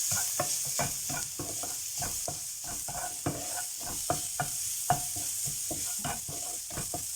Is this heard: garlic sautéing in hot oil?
yes